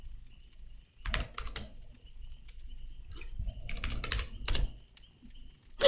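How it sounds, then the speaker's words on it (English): A computer keyboard is typed on in quick clusters of keystrokes with pauses between them, fairly quiet and close. "Okay, just typing it in."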